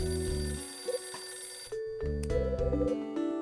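A telephone ringing in the video game Last Window, a synthesized electronic ring repeating in short bursts over game music, with no talking.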